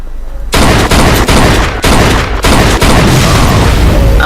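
Gunshots fired at an old car wreck in Mafia 2, a loud volley of sharp bangs starting abruptly and repeating in quick succession over several seconds, close and forceful.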